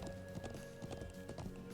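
Horse hooves clip-clop steadily in a Trails of Cold Steel game scene with two riders on the horse's back, a brisk, even trot sitting over a constant game music bed.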